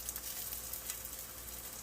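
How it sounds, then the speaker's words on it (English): Spam slices fry in a pan over medium heat, giving a soft, steady sizzle with faint crackles, heard alone and fairly quiet over a brief moment. "But right now we're cooking Spam."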